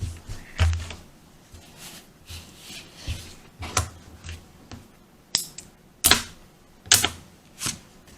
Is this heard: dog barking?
no